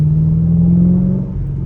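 A Ford Mustang engine with a suspected misfire, held at higher RPM while driving, a loud, steady, close droning hum with a constant low rumble throughout.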